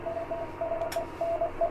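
A 7-band HF antenna switcher changing position, heard as faint clicks and a brief burst over a steady tonal radio hum and beeps, close by but quiet behind the hum.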